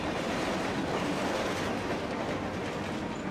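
A train in an anime episode rolls steadily along the rails, a continuous dense rumble with a rattling clatter underneath, constant in level and moderately quiet, with no voices.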